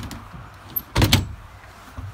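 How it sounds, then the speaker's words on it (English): A magnetic twin-hinge door on a Sea Fox 248 Commander boat swings shut with a brief double clack, two close knocks near the middle over faint background hum. "It's got a magnet in there, so it's really easy to open and close this door."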